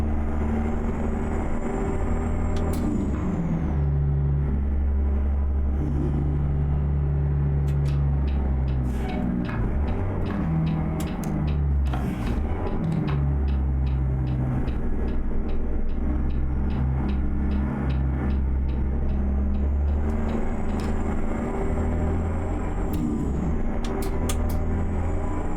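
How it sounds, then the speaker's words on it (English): Road traffic in American Truck Simulator on the Dalton Highway: a continuous low engine drone with shifting tones from passing vehicles and occasional faint clicks and ticks, steady throughout with no voices. "Traffic"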